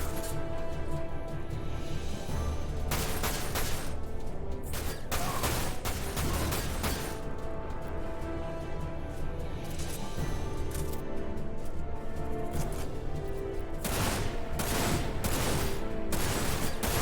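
Rapid rifle gunfire in the Dirge of Cerberus video game, loud bursts of shots in clustered volleys over a constant dense battle din, with heavy firing near the start, middle and end.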